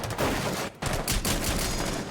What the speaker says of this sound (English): Trying to wall bang, but there's a hard wall in between